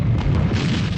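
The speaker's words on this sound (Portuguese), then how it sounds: "O palácio é bombardeado." Heavy bomb blast during the aerial bombing of La Moneda presidential palace in Santiago, Chile, a dense continuous low roar that fills the whole second at high loudness with no voices.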